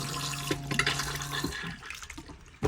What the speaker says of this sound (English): you push this button down to flush it